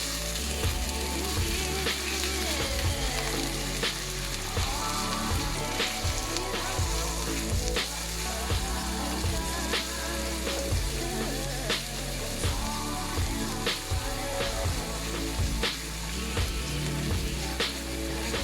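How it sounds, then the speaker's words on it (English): Oil sizzles and crackles steadily in a pan while tomato gravy is being prepared, a loud continuous frying hiss with scattered pops and small clanks of stirring throughout. "now I am making my tomato gravy. So I've already put oil in my pan."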